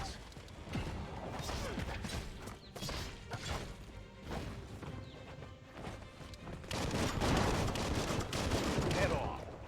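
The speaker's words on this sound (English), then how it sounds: "Blasting everything to bits." Gunfire blasting enemies in the video game Biomutant, a dense, continuous barrage of shots and crashing impacts that swells louder near the end, with a voice talking over the action.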